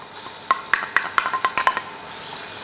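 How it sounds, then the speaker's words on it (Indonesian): Garlic sautés in a little oil in a pan, a soft steady sizzle broken by a series of sharp spoon or spatula taps as it is stirred. "Sekarang kita tumis bawang putih"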